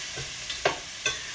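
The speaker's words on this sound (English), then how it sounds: "just browning the mushrooms, getting them all covered in that nice greasy bacon fat." Mushrooms frying in greasy bacon fat, a steady bright sizzle with a few soft stirring scrapes.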